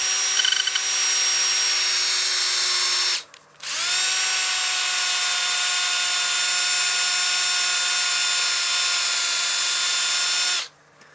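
A power sander works the rim of a blue-dyed wood platter, a loud, steady high-pitched whine that drops out briefly, spins back up and runs on before cutting off, close and with no voices.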